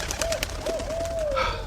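A single owl calls at a temple: one soft, wavering hoot-like note drawn out over a second or so, fairly faint against a light background hum.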